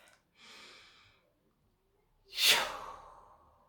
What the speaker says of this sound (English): I just took a deep breath